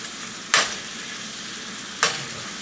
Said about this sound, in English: We're just mixing this up in the butter.